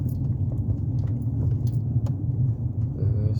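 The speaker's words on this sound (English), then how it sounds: "There's a lot of traffic." Steady low rumble of car traffic on a busy Boston street at Boylston and Cambria, with continuous engine drone and no distinct horns.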